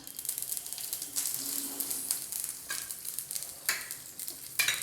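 Mustard seeds, urad dal, curry leaves and a pinch of asafoetida crackle and sizzle in hot oil while being stirred, a steady close spitting hiss with sharper pops and scraping bursts.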